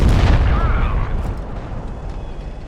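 A tank cannon fires in World of Tanks Blitz, one heavy loud boom at the start that rumbles and decays over a couple of seconds.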